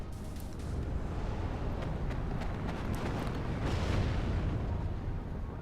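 M40 artillery firing and shells exploding in the WARNO video game, a dense, continuous rumbling barrage of booms with sharp bursts layered throughout, loud and sustained.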